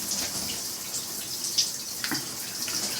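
Steady wash of shower water spraying and splashing, a constant hiss with a few louder drips and splats, heard alone with no voices.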